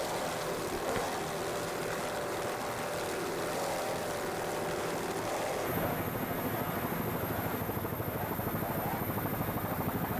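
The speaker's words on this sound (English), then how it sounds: "With this boat doing 84 miles per hour and really making a lot of noise, as you can hear" Roaring racing powerboat engine at 84 miles per hour during a race, a loud continuous drone with a pulsing rhythm that shifts character partway through.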